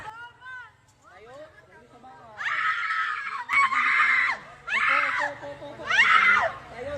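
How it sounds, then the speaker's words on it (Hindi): A girl on a swing lets out a series of loud, repeated shrieks, rising in bursts one after another, with earlier childlike vocal sounds before them. "फिर देखो किस तरह से चिल्लाने लगती है"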